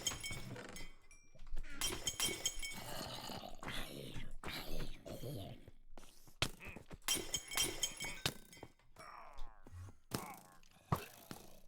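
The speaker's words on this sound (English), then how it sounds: "No shooting me while I'm smashing all of these pots to bits, mate." Pots smashing to bits in a Minecraft dungeon, a string of sharp clinking, breaking bursts in irregular clusters, fairly quiet, with soft talk and exclamations between the smashes.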